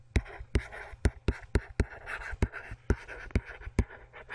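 Chalk or marker taps and scratches on a board in a rapid, fairly regular series of sharp ticks, close and distinct, with no speech over them.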